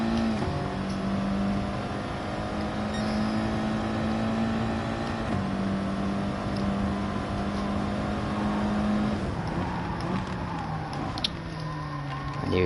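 Race cars lapping Brands Hatch in a racing video game, engines droning steadily with shifting pitch as cars run close together, a continuous loud whine that dips and changes near the end.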